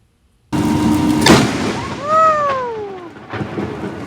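Lightning strikes a palm tree that had already been hit once: a sudden loud crack bursts from silence, then a rolling rumble with shouting voices and exclamations over it.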